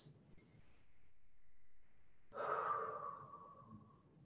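A slow, audible breath during a yoga pose: a quiet, drawn-out inhale followed by a fuller, breathy exhale, close and alone.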